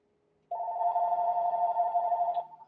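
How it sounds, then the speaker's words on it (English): A single steady electronic telephone tone sounds for about two seconds after a moment of silence, close and fairly loud, with no talking. "Let me answer that phone call."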